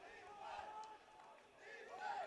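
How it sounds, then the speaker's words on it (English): A crowd at a youth football game between the Mill City Eagles and Valley Generals, swelling in two distant waves of shouting and jeering, with voices rising and falling over the murmur. "You can hear the crowd trying to get a little angry at him, too."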